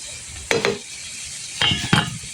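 Bitter gourd sizzles in a frying pan while being stirred, with two bursts of scraping and hissing, the second a quick double stroke, over a low background fry.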